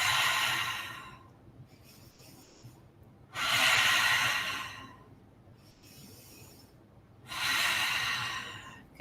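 Deep breathing during a yoga session, three long slow airy breaths spaced a few seconds apart, each swelling and fading, close and clear with quiet pauses between.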